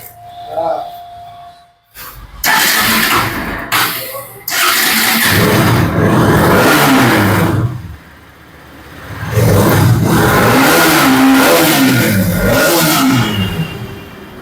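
A 2018 RS 200 motorcycle with dual-channel ABS at a used bike showroom fires up and is revved hard in repeated loud, rising bursts with a short idle dip between them, close and dominant.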